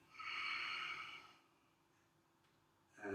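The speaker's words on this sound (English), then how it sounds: "stabilize, and breathe in, and out" A long, audible exhale through the nose during a Hoi Kuen Do martial arts breathing drill: one strong breath out lasting about a second, then quiet, then a fresh breath starting, with no talking.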